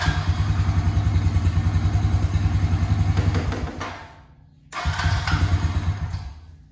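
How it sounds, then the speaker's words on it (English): A 2004 Honda Rancher ATV engine cranks and briefly fires on starting fluid, a loud, dense mechanical chatter that stalls and dies out near the end, then catches again and resumes loud cranking. "So starts up, wants to crank over with starting fluid."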